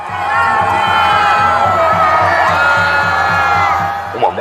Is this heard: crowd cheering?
yes